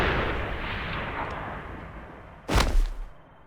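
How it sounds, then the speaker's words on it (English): A firing squad volley in Valiant Hearts comes after a long stretch of low rumbling ambience: one sudden, loud, cracking burst of shots that echoes briefly and then fades. "The firing squad."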